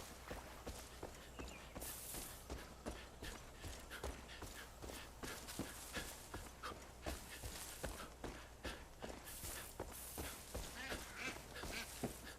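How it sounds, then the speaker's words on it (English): Duck quacking in the video game Far Cry 5, repeated short quacks mixed with a steady clopping rhythm of hooves or footsteps over quiet outdoor ambience, no voices. "It's a duck."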